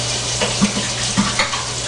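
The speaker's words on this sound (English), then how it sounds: "we're going to fill up our sink with fairly warm water" Warm water runs from a tap into a sink, a steady close wash of flow with small splashing bumps throughout and no one speaking.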